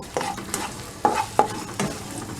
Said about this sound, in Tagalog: pagsasabayin ko na yung prito nitong tilapia at ng pusit